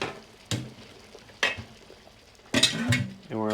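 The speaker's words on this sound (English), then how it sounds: "remove the lid" A metal lid lifted off a large canning pot of crushed tomatoes, with several clanks of metal on metal and a brief rattle set against a quiet kitchen background.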